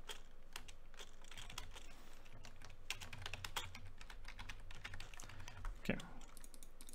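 Steady clatter of keys on a Logitech G19 computer keyboard, rapid irregular keystrokes close to the microphone with a few louder taps, over a low background hum.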